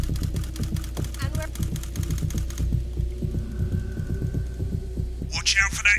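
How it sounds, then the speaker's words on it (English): Steady low electrical interference hum from the broadcast desk in the TV-directing game NotForBroadcast, throbbing with a rhythmic pulse throughout, with a brief high crackling burst of static near the end. "Watch out for that interference"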